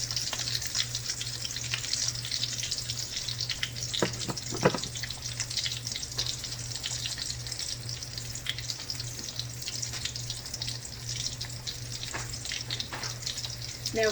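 A piece of fish fries in hot oil in a pan, giving a steady close hiss and crackle throughout with faint clinks and scrapes from turning the fish, and no talking.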